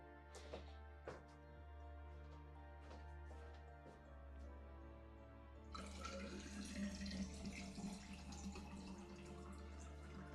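A tap runs in the game Genshin Impact, with soft drips and trickles at first, then a steadier, fuller flow of water starting a little before the halfway point, fairly quiet and with nobody speaking.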